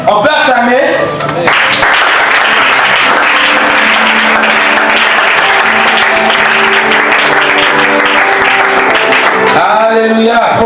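A church congregation applauding: loud, dense, sustained clapping from a large crowd, with voices and cheering mixed in and a single voice speaking at the start and end.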